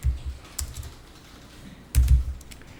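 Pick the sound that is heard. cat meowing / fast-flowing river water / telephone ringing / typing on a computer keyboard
typing on a computer keyboard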